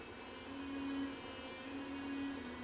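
A Pfaff 130-6 sewing machine stitching, its motor whirring steadily at moderate volume in two sustained runs with a brief easing between them, no voices present.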